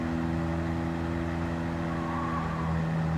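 A 1968 Fiat 500 engine held at full speed in Gran Turismo 7, a steady buzzing drone with strong low harmonics, continuous and close throughout, no talk.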